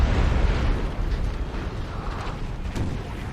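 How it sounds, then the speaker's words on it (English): In the Napoleonic Total War 3 video game, artillery keeps booming in a back-and-forth duel. The cannon fire is a heavy, continuous low rumble with a few muffled blasts that blur together at a distance. "Artillery is kind of dueling back and forth here. Yeah, it's like an artillery duel."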